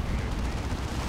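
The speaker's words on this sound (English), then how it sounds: "Big demolition cannon shot." Demolition cannon shot in the strategy game Dawn of War 2, a heavy booming blast amid a dense battle din of gunfire and rumbling, steady and loud over about a second.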